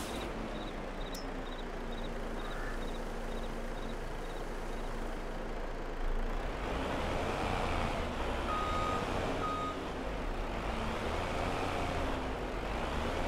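A fully loaded truck in Farming Simulator 22 drives with a steady engine rumble and road noise, joined by a high repeating beep early on, with no talk.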